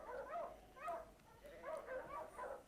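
A cartoon dog barks and yelps in repeated bursts while chasing a kangaroo, the barks loud and close, mixed with whimpering tones.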